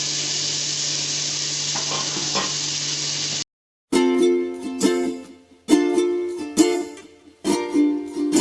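Prawns go into a simmering gravy in a pan. A steady hiss and sizzle give way to a brief silence, then a series of clattering stirring and scraping bursts with pauses between them.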